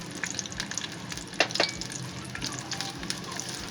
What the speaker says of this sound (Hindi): इस ऑयल में मैं सबसे पहले प्याज को सौते कर लूँगी